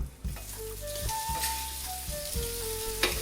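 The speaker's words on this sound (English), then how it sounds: "Time to turn the bacon over." Bacon sizzles and crackles steadily on a Vevor 1600W electric flat top griddle, a close, continuous frying hiss with faint pops and a few light scrapes as strips are turned.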